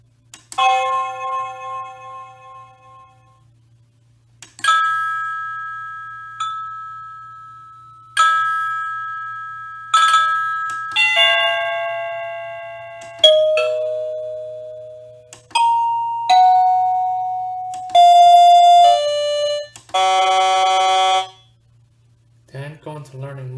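A SadoTech Model C wireless doorbell runs through a long electronic chime melody of bright sustained notes, several rising and falling phrases ending in a buzzy tone, over a faint steady hum.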